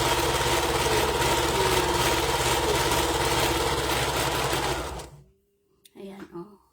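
A sewing machine rolled-hemming a gown runs loud and steady with a rapid mechanical whir for about five seconds, then stops, leaving a few faint handling noises.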